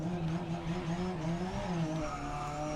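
Race car engine note with tire squeal in the racing game Forza Motorsport 7, a steady droning engine tone that wavers and shifts in pitch with faint squealing tires, continuous and moderately loud.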